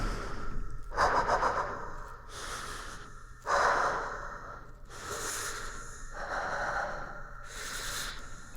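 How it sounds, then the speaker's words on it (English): Rough, raspy breathing created as a sound effect for DARQ, alternating harsh inhales and exhales in a slow rhythm, close and fairly loud with a gritty, processed texture. "This is a very rough sounding breathing that we have here"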